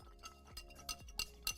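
A long knife clinks against ice in a glass while stirring a cocktail in place of a bar spoon, four or five sharp, bright clinks at a steady rhythm, close and distinct, with no talking.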